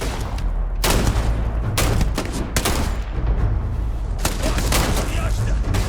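Loud, rapid gunfire in a Starfield firefight, dense volleys of close shots cracking one after another, with voices briefly shouting amid the shooting.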